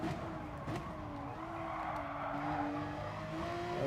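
Race car in a racing game at Mount Panorama, its engine holding a steady drone through a corner with light tire squeal and a small shift in pitch, heard alone without talk.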